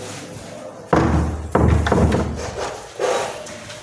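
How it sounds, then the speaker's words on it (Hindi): A wooden door thuds shut with several heavy knocks and rubbing bumps, loud and close, in an otherwise quiet room. "एक मिनट दरवाज़ा बंद करता हूँ गुरुजी"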